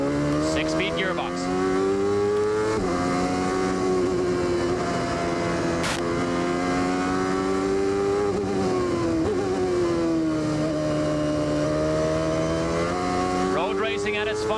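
A CART race car at speed around Elkhart Lake in 1995, recorded onboard: a loud, close engine howl climbs in pitch and drops at several gear changes, with commentary running over it.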